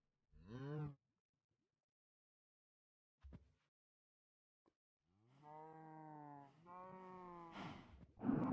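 A cow in the video game Runecraft moos several times: a short low moo, then a long drawn-out moo broken into two parts. Each call is clear and close, separated by silence and faint clicks.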